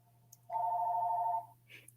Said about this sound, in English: I know y'all hear that phone ringing